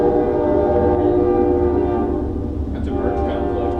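A train rumbles past nearby with a sustained steady roar and a tonal horn, continuous and loud throughout, with faint sounds of a room alongside.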